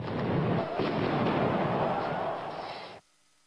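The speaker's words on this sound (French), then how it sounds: "Les forces anti-émeutes ripostent à coups de gaz lacrymogène et de grenades assourdissantes" Riot police firing stun grenades and tear gas at a besieged parliament, a loud sustained roar of blasts and crowd noise that cuts off abruptly near the end.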